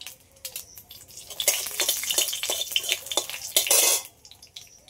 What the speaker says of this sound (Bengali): এইভাবে কেটে দিয়ে দিচ্ছি তেলের উপরে